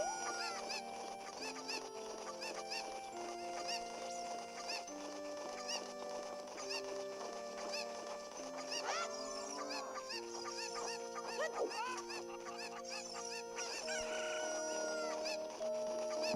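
Cucco chickens in Zelda: Ocarina of Time 3D cluck and squawk repeatedly in clear, close, game-style bursts, layered over a steady musical backdrop with no talking.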